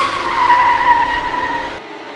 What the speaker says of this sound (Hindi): मिश्रा जी को उसकी गाड़ी की आवाज़ें आ रही थी।